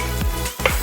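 Speck frying in olive oil in a pan for Amatriciana sauce, a steady close sizzle with a couple of brief stirring scrapes partway through.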